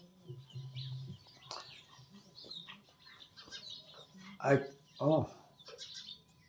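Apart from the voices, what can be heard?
birds nesting nearby, chirping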